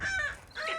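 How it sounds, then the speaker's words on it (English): A striated caracara, a Falkland Islands bird of prey, gives two loud, harsh, honking calls close by, separated by a short dip. "This is a striated caracara from the Falkland Islands."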